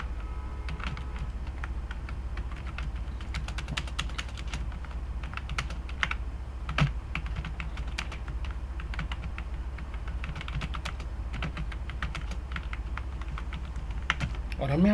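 Code being typed on a computer keyboard, a steady stream of quick close clicks with a few heavier keystrokes, under faint low talk.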